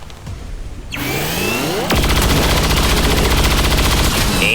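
Sustained automatic gunfire in the XCOM video game, aimed at an Andromedon, beginning after a brief lead-in and hammering on loudly as a dense, rapid burst with bright echoing tails.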